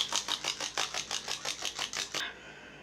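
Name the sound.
shaking a bottle of Marabu Metallic alcohol ink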